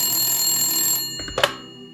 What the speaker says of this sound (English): the phone rang in the apartment of my grandfather